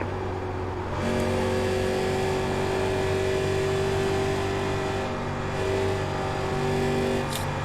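A 1987 NASCAR Legends stock car engine drones loud and steady in iRacing at Darlington Raceway, holding a sustained high revving tone with brief dips as the driver lifts, no talking.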